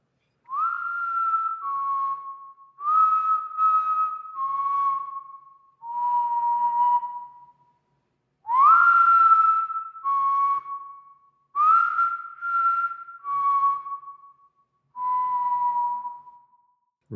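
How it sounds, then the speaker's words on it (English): A person whistles outside a house at night in a cheerful, steady tone, a series of clear sustained notes in short phrases with brief pauses, moderately close and alone with no talking. "The whistler has the same tone every night."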